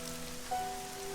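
Soft, steady summer rain patters on surfaces in the Summer Pockets visual novel, a faint continuous wash with a thin tonal note over it and no voices.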